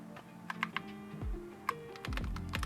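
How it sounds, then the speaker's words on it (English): Keys clatter in irregular bursts of typing on a keyboard while setting up a OneXFly handheld PC, with tonal background music underneath and no talking. "I can use the keyboard."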